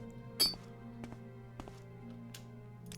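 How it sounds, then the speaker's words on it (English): A faint glassy clink rings out once early in Morrowind, followed by a few softer taps over a steady low game hum. "Something made that clinking noise."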